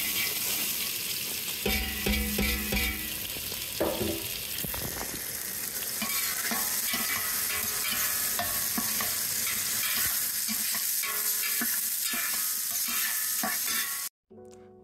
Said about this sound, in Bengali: আপনারা দেখছেন আমি পেঁয়াজগুলোকে মিডিয়াম আঁচে ভেজে নিলাম